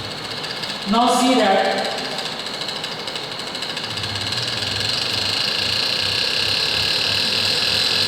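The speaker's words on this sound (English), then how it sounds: "this is the rotor having 300 mm diameter and I start the machine." A gyroscope machine with a 300 mm diameter rotor starts up, a brief clunk followed by a steady motor hum and whir that grows slightly stronger and then runs evenly, with a person speaking briefly near the start.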